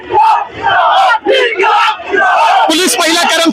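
A large crowd of marchers shouts and yells in loud, close chanting bursts as police wield lathis during a march, with the voices surging together and then rising into a higher roar near the end.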